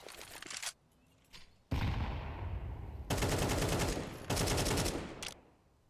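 Rapid automatic gunfire in the video game Counter-Strike 2, with several loud, sustained bursts broken by short quiet gaps and a brief faint pop between them.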